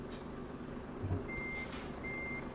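Reversing beeps from a truck in Euro Truck Simulator 2 sound over a steady engine drone, a thin tone repeating twice, moderately near with a low rumble beneath.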